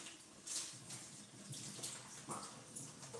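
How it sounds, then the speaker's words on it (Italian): Fresh mozzarella rinsed under a running kitchen tap being prepared as a pizza ingredient, a soft steady hiss of flowing water with faint splashes, quiet and close, no talking. "Bisogna semplicemente sciacquarla così per far sì che l'acqua, il latte, il siero vada via."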